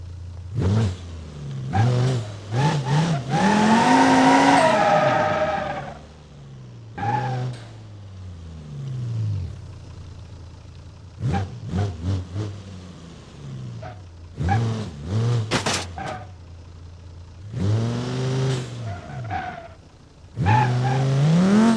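A video game car revving and skidding in repeated bursts, engine climbing and tires squealing between brief pauses, loud and close, crashing into cardboard cutouts.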